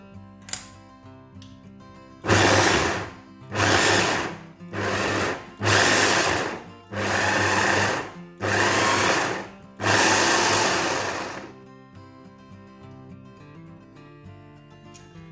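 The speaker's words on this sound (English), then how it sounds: "I'm just going to finely chop these up in a food processor" Food processor finely chopping portobello mushrooms in loud close motor bursts, about seven pulses of a second or so each separated by short pauses, the last run longer.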